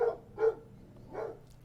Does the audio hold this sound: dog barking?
yes